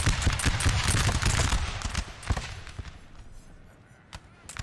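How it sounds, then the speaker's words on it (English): Musket volleys from guard infantry in Napoleonic Total War 3 during a 4v4 battle, dense crackling gunfire rolling together loudly at first, then thinning into scattered distant shots over a low battle din. "They are out shooting on this flank."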